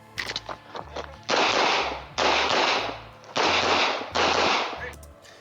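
Pistol fire in bursts during a competitive shooting match stage: four dense, loud volleys of rapid back-to-back shots, close to the mic, with short quiet gaps and lower-level activity between them.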